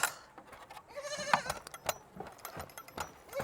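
Goats bleating on a brushy homestead, several wavering cries at close to moderate distance, with scattered rustling and knocks between calls.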